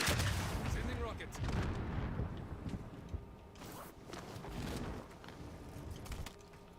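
Rocket strikes and explosions in a Call of Duty match: heavy booming blasts and gunfire-like bursts recur across the clip, loud and close, with no voices.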